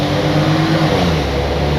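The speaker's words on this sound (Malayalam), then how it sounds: "അതേപോലെ എൻജിൻ നോട്ടും ആക്ച്വലി ഒരു രസമുണ്ട്. കുറച്ചൊരു സ്പോർട്ടി ഒരു നോട്ടൊക്കെ കൊടുത്തിട്ടുണ്ട്." A custom Mercedes W110 Fintail with a sporty engine note revving: a steady, loud, close mid-pitched engine drone that holds and shifts slightly in tone, with a voice faintly under it.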